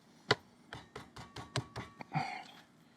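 Seitan dough pressed and mashed flat onto a wooden board, a run of about nine soft, close thumping presses and taps in an uneven rhythm, heard alone with no talk.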